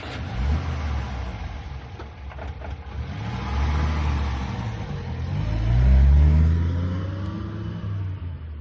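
A car engine starts up and the car pulls away, its low rumble swelling as it revs and accelerates, loudest near the end, with no voices.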